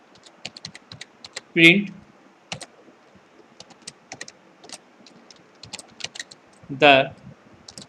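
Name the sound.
typing Python code on a computer keyboard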